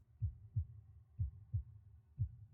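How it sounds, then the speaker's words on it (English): A quick, steady heartbeat thumps in soft low double pulses, about five beats over a couple of seconds, muffled and close against near silence, used as a racing-heart sound effect in an audio drama. "Your heartbeat is racing."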